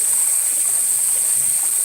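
A river winds past a bridge and pipes, its water flowing as a steady, even hiss at moderate distance, joined by a constant high-pitched whine and no speech.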